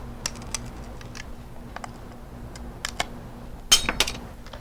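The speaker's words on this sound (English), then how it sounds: "What I'm doing is giving it a little snap and breaking each piece off" Small pieces of glass snapped off one at a time with curved-jaw grozing pliers while making a stained glass window, giving a few sharp, brief cracks and ticks over a quiet hum, with one louder snap near the end.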